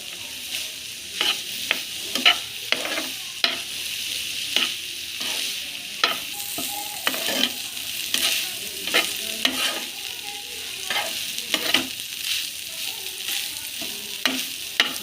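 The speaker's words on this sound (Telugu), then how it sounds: "అన్నం మంచిగా కలిసే వరకు కలుపుకోవాలి ఫ్రెండ్స్" A spoon stirs cooked rice with pudina and pepper in a hot pan, scraping and clinking in irregular taps over a low, steady sizzle. The sound is close and continuous, with no one talking.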